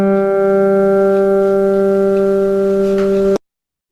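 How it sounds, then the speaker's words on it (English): A single plucked guitar string sounding a G note, steady and sustained with clear harmonic overtones, ringing evenly for over three seconds before cutting off abruptly into silence. "what that was the sound of a guitar string being plucked, playing a G note"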